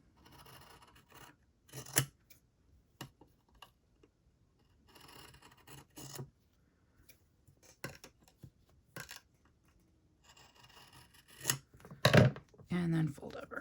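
Scissors snip the paper edges of a handmade journal cover in short, separate bursts between quiet pauses. A louder cluster of cuts and rustling comes near the end, with a voice speaking at times.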